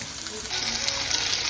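Steak frying in an iron skillet, a dense steady sizzle that swells after a moment into loud crackling spatter, close up and continuous with no talk.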